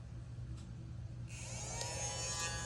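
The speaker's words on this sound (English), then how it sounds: "let me vacuum this up real quick." A small handheld clearance vacuum cleaner switches on partway through, its steady high whine and whirr rising over a constant low hum and continuing loud to the end, with no talking.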